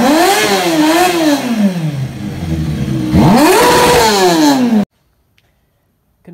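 A Kawasaki KLR 650 motorcycle engine runs and revs repeatedly, rising and falling in pitch through several throttle blips, loud and close, then cuts abruptly into silence.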